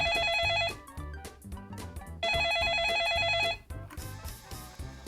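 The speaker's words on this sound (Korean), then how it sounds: "저희가 한 장관께 지금 준비 중인데 전화 좀 걸어보겠습니다" A telephone rings while an outgoing call is placed, with two long bursts of bright, rapidly warbling ring tone separated by a pause, over faint background room noise.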